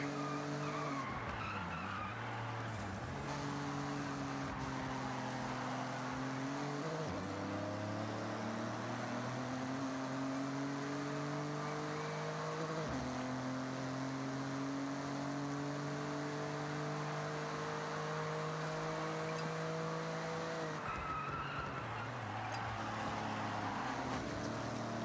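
A car races in Forza Horizon 6, its engine droning steadily with pitch rising and falling through gear shifts, tires squealing and skidding throughout under a constant loud roar.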